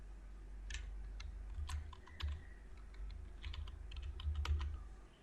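Keys clatter on a computer keyboard as a restaurant name is typed into a logo design, a quiet, close run of irregular clicks in short bursts with brief pauses.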